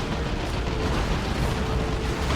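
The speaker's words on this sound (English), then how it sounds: "Note that his retinue members also get the grenade launchers, so you're firing 3 of those things." Grenade launchers firing in the video game Dawn of War 2 produce a dense, continuous roar of explosive blasts and rumbling bursts with no gaps, loud throughout.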